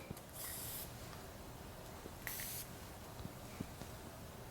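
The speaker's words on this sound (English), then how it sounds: "I never knew that a natural deodorant would come in a dry spray form" A natural deodorant in dry spray form gives two short hissing bursts, close and moderately loud, separated by a pause, with faint handling noise between them.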